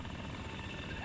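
Helicopter rotor and engine noise from the FlightGear flight simulator's multiplayer chopper, a quiet, continuous dense whir with low thudding texture and no gaps.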